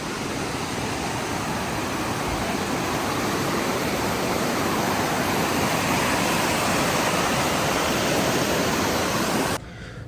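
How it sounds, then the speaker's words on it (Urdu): Fast-flowing Shigar River rushing past in a mountain valley, a loud, steady broadband roar of churning water held without a break for about nine and a half seconds, then dropping away abruptly near the end. "ایک طرف تیز رفتاری سے بہتا دریائے شگر"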